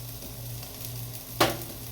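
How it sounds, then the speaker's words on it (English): Onions and peppers frying in a salted pan give a steady, close sizzle, with one sharper burst of crackle near the end as the food is stirred or shifted. "if you throw salt in there in the beginning, it helps sweat the onions"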